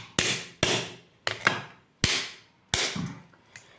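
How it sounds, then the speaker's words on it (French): A nutcracker used as a hammer taps a spider crab shell five times at uneven intervals. The sharp, hard knocks are close and clear, and each one rings briefly before dying away. "vous pouvez utiliser le casse-noix comme un espèce de marteau. Dans votre main, vous tapez comme ça."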